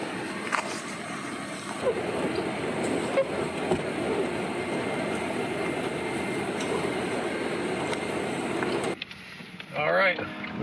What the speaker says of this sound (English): All right, we're driving it home now.